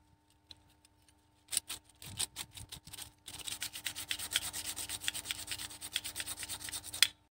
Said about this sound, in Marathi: तर आता आपण घासणार आहोत स्टार्टरच्या पट्ट्या।